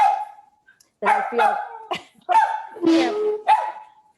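A dog barks and yips in several sharp bursts, some drawn into whiny tones, close by and fairly loud, with a person speaking briefly underneath.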